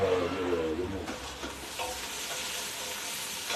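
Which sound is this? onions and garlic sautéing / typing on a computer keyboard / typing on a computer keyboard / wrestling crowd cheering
onions and garlic sautéing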